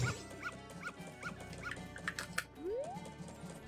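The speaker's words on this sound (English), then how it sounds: "This dog, by the way, really doesn't like Dekus." A dog in the Majora's Mask video game barks repeatedly at a Deku, giving a regular series of yappy in-game barks over background game music, ending in a rising whine.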